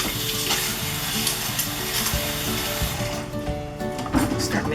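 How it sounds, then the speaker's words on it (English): A spoon stirs chopped pico de gallo of tomatoes in a bowl, giving a steady wet, squelching and clicking texture that runs continuously at close range. "Start mixing with this spoon just because I don't want to bruise"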